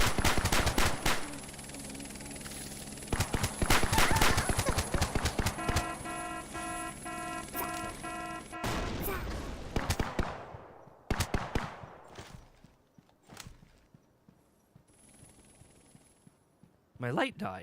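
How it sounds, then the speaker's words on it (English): Rapid gunfire from a video game demo set in a big city, with police being shot at, sharp repeated bursts and rattling volleys, dense at first then thinning into scattered shots, with people talking over it. "So I've learned in this game you just shoot the police."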